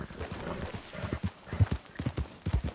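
Horse hooves clip-clopping at a brisk, steady gait during a ride in Red Dead Redemption 2, close and fairly loud, with a faint whinny-like tone behind the beats.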